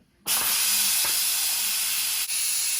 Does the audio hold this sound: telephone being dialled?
no